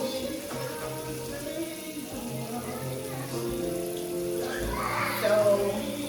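Tap water runs steadily into a sink while neck bones are rinsed, with splashing and a brief gurgle toward the end and no talking.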